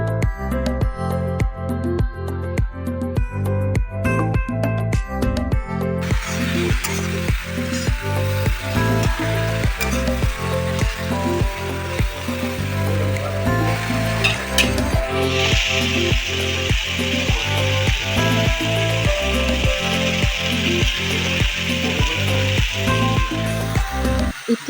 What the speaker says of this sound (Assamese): ইয়াতে মই এতিয়া ভোলখিনি দি দিছোঁ আৰু ভোলখিনিও মই ধুনীয়াকৈ ভাজি লওঁ।